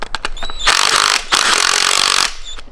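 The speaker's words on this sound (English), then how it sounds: "Take our new trusty Harbor Freight impact." Harbor Freight impact wrench running a socket nut down onto a lowering spring on a Subaru STI, two loud sustained buzzing bursts after a few short taps, with a brief break between them.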